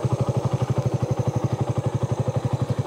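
A Suzuki Raider 150 carburetor motorcycle engine runs steadily up close. Its exhaust thumps in a fast, even rhythm that holds a constant pace throughout.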